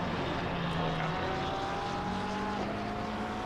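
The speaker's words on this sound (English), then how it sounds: "The heli cam would be so much nicer if it didn't have the sound of the helicopter." A helicopter at a GT Americas race at Paul Ricard drones steadily and loudly throughout, a dense rotor-and-engine roar with faint rising engine whines from race cars beneath it.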